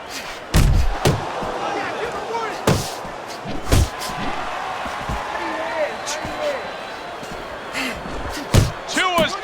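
Punches land in the Fight Night Champion boxing video game, David Tua against Riddick Bowe, as several heavy slapping thuds spread across the stretch over a crowd murmur, with a commentator talking throughout.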